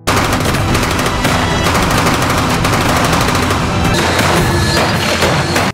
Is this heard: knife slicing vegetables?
no